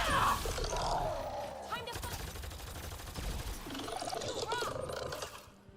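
Rapid gunfire from a weapon in Mass Effect: Andromeda, a dense mechanical rattling burst sustained for several seconds with whirring, clicking weapon sounds and game effects layered in, tapering off at the end.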